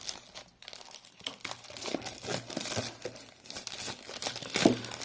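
A polythene bag being torn open by hand, with loud, close crinkling and ripping that comes in bursts and builds to a sharp tear near the end.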